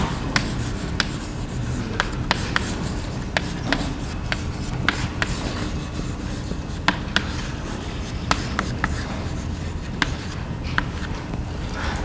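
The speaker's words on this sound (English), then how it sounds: "I'll write that here" Marker or chalk writing on a classroom board during a chemistry lecture on solubility: a steady run of short scratchy strokes and taps, fairly close, with no talking over it.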